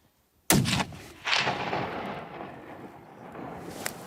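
Hunting gunshot fired in the field: a sudden loud crack, then a second report echoing and rolling away into the distance, with a faint tick near the end.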